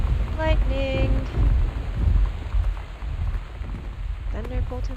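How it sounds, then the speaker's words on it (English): Thunder and a lightning storm in the video game Gone Home, a loud low rumble with steady rain-like hiss, mixed with a voice making short sung or spoken sounds. "Lightning!"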